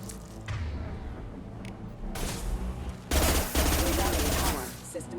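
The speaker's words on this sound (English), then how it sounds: "He's gunning down his own crew to keep control?" Gunfire in the video game Mass Effect 2, with bursts of rapid automatic fire that come and go over about five seconds, growing loudest near the end.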